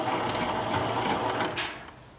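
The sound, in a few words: winch running while hoisting a trailer on a Suzuki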